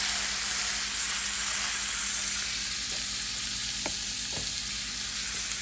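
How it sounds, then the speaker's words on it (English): Beef for birria tacos sears in a small pan, giving a steady, close sizzle and frying hiss that lasts throughout, with a couple of faint clicks and taps near the end and no talk. "I'm gonna let that sear for probably 4 minutes on each side"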